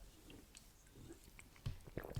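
Soft wet mouth noises and a few gulping swallows from a person on a podcast, very close to the microphone and faint, building to several louder squishy swallows near the end.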